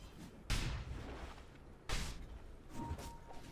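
Rocket Barrage missiles from a level 2 hero strike in a Dota 2 match, several loud booming impacts landing in separate bursts over a dense game-mix background, without commentary over them.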